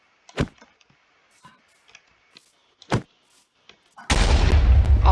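Sharp Minecraft gunshots and clicks punctuate near silence, then a sudden loud, sustained explosion erupts and rumbles through the end.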